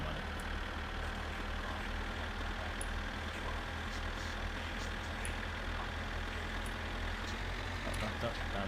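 A tractor's engine in the driving game My Summer Car revs up steadily and holds a loud, continuous, low rumble throughout, with no break in the drone.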